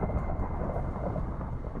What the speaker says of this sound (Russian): Без остановки просто бахает молния